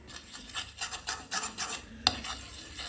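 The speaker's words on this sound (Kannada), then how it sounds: "ಸ್ವಲ್ಪ ಮೈದಾ ಹಾಕಿಬಿಟ್ಟು ಮಿಕ್ಸ್ ಮಾಡಬೇಕು" Maida flour is stirred into hot oil in a pan with a spoon. The spoon makes steady rhythmic scraping and rubbing strokes with a faint sizzle, and one sharp clink of metal against the pan near the end. No one speaks.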